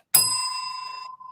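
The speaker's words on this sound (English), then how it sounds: "Billy, can you ring that bell" A single bell rung once on a talk show, a bright metallic ding with a sustained ringing tone that fades over about a second, loud and close with no talking.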